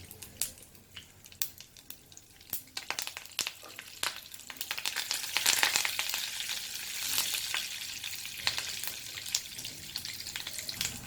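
Mustard seeds, crushed garlic and curry leaves fry in hot oil for aloo matar curry, a steady sizzle with crackling pops and occasional stirring clinks, swelling louder midway, with no talking.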